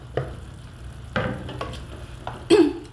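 Pinakbet with malunggay pods sizzles in a pan, a steady frying hiss broken by a few sharp scraping stirs of the spoon against the pan.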